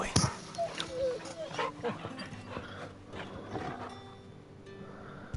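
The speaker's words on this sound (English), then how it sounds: "Let's pet the dog. Alright, dog boy. Come here, Torgal." Torgal, the dog companion in the video game Final Fantasy XVI, is petted, giving soft whimpers and small yips over game ambience, with a few hoof-like clops and thuds nearby.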